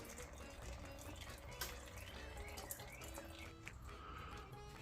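Fluid draining from a Honda 400ex ATV in a workshop, a faint, steady trickle and splash into a catch pan, with occasional small clinks and no talking.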